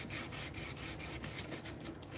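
A wooden handle is sanded by hand in steady, repeated rasping strokes, a rhythmic rubbing with regular pulses that stays close and moderately loud throughout, with no voices.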